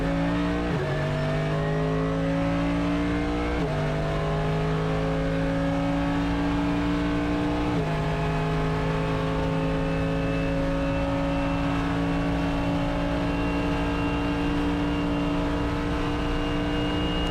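A race car engine on a practice lap, loud and continuous from inside the car, rising in pitch through each gear with three sharp drops at the upshifts before it climbs again.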